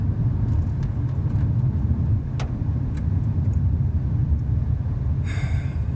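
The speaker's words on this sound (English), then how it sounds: "I'm in the car, I'm paying attention to the road, trying to keep an eye on traffic." Steady low road rumble and engine drone from inside a moving car, continuous and fairly loud, with a brief brighter hiss near the end; no one talks.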